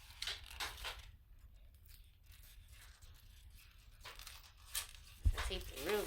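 Adhesive tape is torn from a roll and pressed onto a sublimation wallet in scratchy, ripping bursts with brief crinkles, close by, between and under a person's talking.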